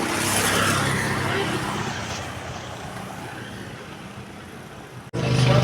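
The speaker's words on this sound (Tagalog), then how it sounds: "At may nahanap nga kaming sasakyan guys. Nakita ko yung kakilala namin kaya dito na kami nakasakay." Steady, loud rumble of a car engine and road noise from inside a moving vehicle, continuous for several seconds before a brief cut and a slightly different engine drone.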